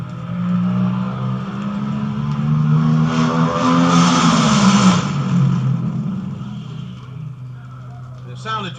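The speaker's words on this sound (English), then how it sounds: "The sound that you just heard was that of the Crosley, Williams, and Swan A-Fuel dragster from Bakersfield, California, driven by Jack Williams." A-Fuel dragster from Bakersfield, California, roaring past at well over 190 mph during the 1964 Nationals drag race, a loud sustained engine howl that swells and fades with the pass, with crowd or announcer noise beneath.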